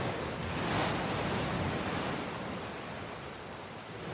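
Stormy ocean surf in freezing conditions roars as a dense, unbroken wash of crashing waves and wind, loud and close throughout with no voices.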